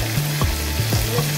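Onion sizzling in hot oil for a gravy, part of a Konkani jackfruit-seed vegetable dish, giving a steady close-up frying crackle with faint stirring and no talk.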